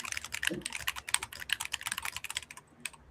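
Close, rapid typing on a computer keyboard during a live coding session, a dense even patter of key clicks with no voices.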